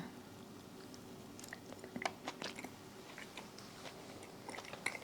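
Quiet, close chewing of a crunchy strawberry donut, with soft irregular crunches and bites scattered over a faint room hum.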